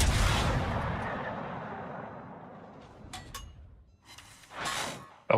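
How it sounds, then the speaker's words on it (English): Naval guns fire in World of Warships, opening with a heavy booming blast that rumbles and fades over several seconds, followed by a few smaller distant shots and another deep boom. "Oh, guns."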